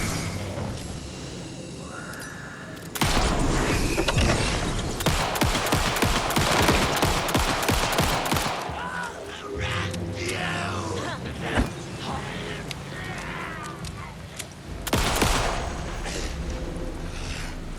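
Sustained rapid gunfire while fighting enemies in the video game Alan Wake II, with dense bursts of shots and booms that run almost the whole time, loud and close, easing briefly in the middle before flaring up again.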